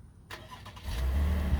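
A Chevrolet Camaro RS (sixth generation) starting by remote: a few faint clicks and whirs, then the engine cranks and catches into a low, steady rumble, close by.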